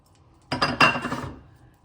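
A wide frying pan is handled on the stove and extra-virgin olive oil goes in, with a clear clattering metallic clink and a brief ringing scrape that fades over about a second, close and alone.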